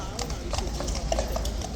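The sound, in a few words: horses' hooves clip-clopping as troopers leave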